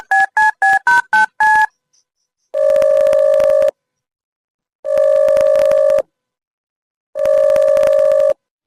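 Six rapid dialing beeps as a phone call is placed, followed by three long, loud ringback tones separated by silent gaps, with no talking.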